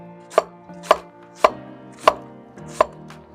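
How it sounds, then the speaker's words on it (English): A knife chopping an onion on a cutting board for mujadara, five sharp evenly spaced thunks with a ringing tone, close and clear without speech. "Now, for the lentils, we chop the onion."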